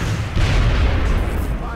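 Gunfire from the turn-based strategy game XCOM: Enemy Within, a loud booming shot that blends into a dense, sustained rumble of game noise lasting nearly two seconds.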